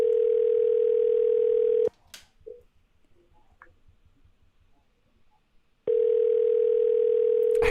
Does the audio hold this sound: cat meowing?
no